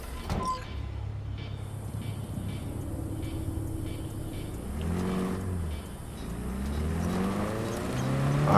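A car in Cyberpunk 2077 revs and pulls away, its engine tone rising and falling through several gear sweeps over a steady hum, with a door-like thud near the start and no talk.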